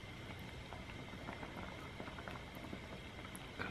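Seafood stew with shrimp bubbling in a pot, a soft steady boiling patter and popping at low level throughout with no talk.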